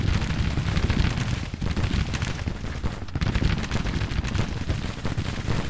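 Civil War musket volleys in a strategy game crackle in dense, overlapping bursts of distant gunfire, with booms rolling underneath and no pauses.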